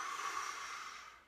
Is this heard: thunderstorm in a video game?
no